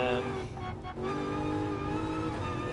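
A BMW race car in the video game GT Sport, a loud sustained engine whine that dips briefly as it shifts gear, then climbs steadily again.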